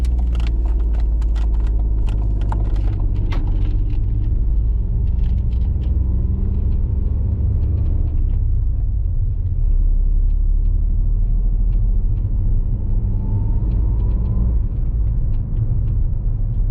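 A car pulls away on a mock driving test route from the Kingstanding test centre, its engine rumbling steadily close inside the cabin, with a low continuous hum and a few faint clicks early on.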